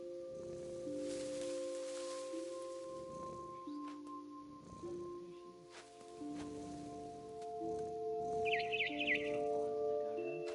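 Bird chirps sound in What Remains of Edith Finch, thin and bright in short bursts over sustained tonal game music and soft ambient rustling, fairly faint and distant.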